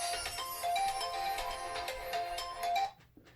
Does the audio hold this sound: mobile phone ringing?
yes